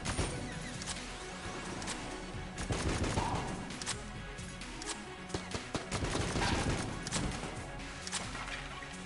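Rapid bursts of gunfire from a powerful gun in the Enter the Gungeon video game crack loudly and almost nonstop, layered with impact clatter and game effects.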